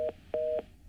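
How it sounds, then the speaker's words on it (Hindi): Three short, identical electronic beeps at a steady, even rhythm signal that a phone call has been disconnected, each a clear steady tone separated by brief silences, with no voices. "फोन कट गया है"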